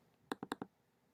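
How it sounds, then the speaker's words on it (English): Four quick, crisp clicks of a computer keyboard typed with one hand, close and fairly quiet, in a short even burst against near silence. "I'm typing with one hand"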